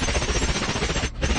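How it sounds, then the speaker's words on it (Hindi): Rapid gunfire from the 2010 spy thriller Salt, a dense, loud burst of repeated shots filling the whole stretch with a brief gap near the end. "एवलिन अब इस एजेंट पर गोलियां चलाती है।"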